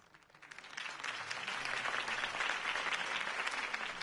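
Crowd applause in a Batman video game swells from quiet to a full, steady roar of clapping within the first second or so, then holds at a moderate level.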